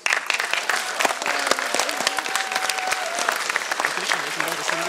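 An audience claps steadily after a talk, a dense spread of hands close by, with a voice speaking over the applause.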